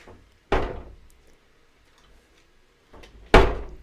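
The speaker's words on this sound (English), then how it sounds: "That door does not shut, Jordan." A door that does not shut is pushed closed twice, each time a single sharp knock and rattle, close and fairly loud with quiet in between.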